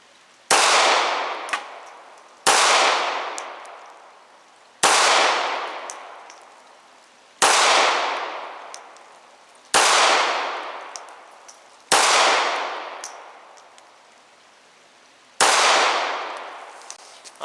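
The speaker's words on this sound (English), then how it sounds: "Now back on the left target, same aiming point, Sig P238." Seven loud gunshots from a Sig P238 .380 pistol fired at an outdoor target, evenly spaced about two seconds apart, each with a long ringing decay.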